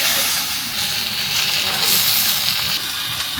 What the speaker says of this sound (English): I feel like when you have really good quality salmon, the flesh when it's cooking is just like super soft